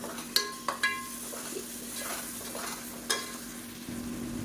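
Spices and curd frying in oil in a pot for mutton biryani: a soft steady sizzle with a few sharp metal clinks of a spoon stirring against the pot, quiet and close.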